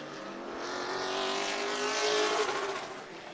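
A sportsman race car laps Auburndale Speedway, its engine note swelling as it nears, holding a loud, steady drone, then easing off at the end. No one talks over it.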